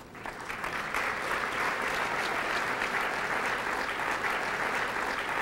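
A banquet audience at a chamber of commerce annual dinner breaks into warm, steady applause for a speaker's introduction, the clapping swelling within the first second and then holding full and even throughout.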